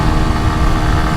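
A small CFMOTO Papio SS motorcycle cruising at about 70 mph, its engine a constant loud, buzzing drone mixed with broadband wind rush, steady throughout with no voices.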